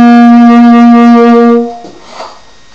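A single sustained tenor saxophone note C, rich and reedy, held steady for nearly two seconds before stopping, followed by a faint breathy tail.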